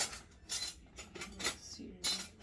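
Metal kitchen utensils clattering as a hand rummages for a slotted spoon, irregular close clinks and rattles of cutlery against pots and pans in short bursts, quiet overall.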